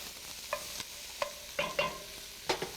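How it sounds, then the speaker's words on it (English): Onions, carrots and celery stirred in a braising pot with drippings from a beef roast, a few scattered scraping clinks and soft sizzles over a low hiss, close and fairly quiet. "Could be onions, carrots, and celery. Really stir those up."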